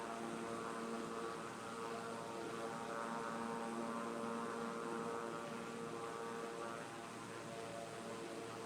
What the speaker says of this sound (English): That's why I picked a GA plane